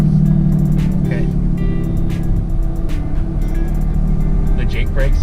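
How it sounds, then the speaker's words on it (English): A truck with a straight-pipe exhaust runs its Jake brake on a dangerous Canadian road in a blizzard, giving a loud, steady, rumbling drone with rapid pulsing that holds throughout, while people talk over it. "The Jake brake sounds so good in this. Since it's straight pipe"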